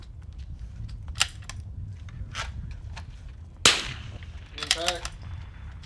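Rimfire rifle shots on a precision rifle match firing line, aimed at a small square steel target at 160 yards: several sharp cracks, one louder and nearer, with faint metallic impact pings over steady outdoor background noise.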